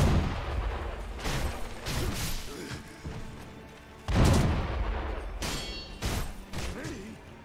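In Sekiro, an enemy shotgun fires repeatedly in a castle-top fight, with several loud, sharp booming blasts at irregular intervals and their ringing tails between them.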